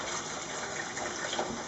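Dock-dyed yarn is rinsed in water at the same temperature as the dye bath, giving a steady, close rush of gushing, splashing water with no pauses, like a tap running into a basin.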